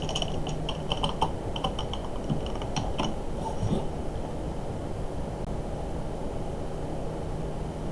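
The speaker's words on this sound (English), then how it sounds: "we're going to type this." Quick bursts of clicking keys on a computer keyboard while code is typed, busy during the first half and then thinning out over a steady background hiss, with no talking.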